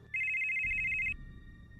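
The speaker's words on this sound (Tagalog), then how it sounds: "Hanggang sa biglang tumunog ang cellphone kong galing lang din sa nakaw." A cellphone ringtone bursts out for about a second as a bright, steady electronic trill, then cuts off abruptly, leaving a quiet low rumble behind.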